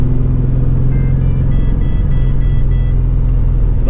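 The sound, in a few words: Holden Monaro CV6 accelerating at full throttle in fourth gear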